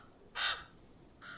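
A crow cawing in Game of Thrones, a single loud harsh caw followed by the start of a second, close and clear with no talking.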